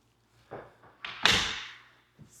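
A house front door opens with a couple of knocks and thumps, then a loud scraping swing that fades out, close by, with no talk.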